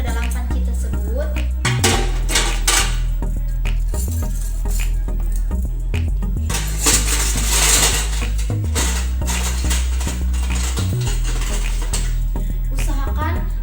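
Metal dental instruments are placed into a metal pot used for boiling, with repeated clinks and clattering of metal on metal, close and fairly loud, under a voice talking.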